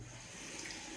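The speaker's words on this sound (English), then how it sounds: "Here's the shower." Shower running in a hotel bathroom, water fed from a rooftop tank, a faint steady hiss of spray.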